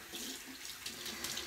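Lukewarm water runs steadily from a sink tap, a continuous hissing splash close by with no voices.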